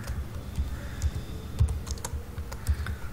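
Rapid, uneven keystrokes on a computer keyboard as a search keyword is typed, close and fairly clear, with irregular clicks and a few louder taps and no voices.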